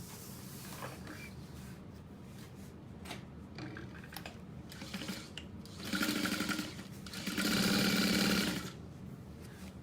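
A sewing machine stitches a structured tote bag in two sustained runs near the end, loud and close, with scattered handling clicks and a brief spoken word before.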